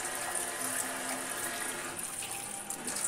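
Water streams steadily from an instant electric hot water tap with a temperature controller, a continuous close splashing hiss that stays even throughout and has no voices over it.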